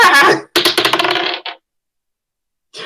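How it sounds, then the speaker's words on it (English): Dice rolled for a tabletop role-playing game, a bright rattling clatter of small hard pieces tumbling and bouncing, loud and close, in two bursts followed by silence and a brief final clatter. "I'm gonna roll dice."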